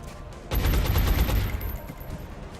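Suppressive gunfire in the XCOM video game: a dense, loud burst of rapid automatic shots that rises suddenly and rattles on for about a second before tapering into a lingering noisy tail.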